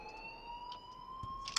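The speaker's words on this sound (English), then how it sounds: "please turn off that alarm since that's your job." An electronic alarm in the video game Life is Strange, a steady high sustained tone ringing continuously with faint background clicks and shuffles.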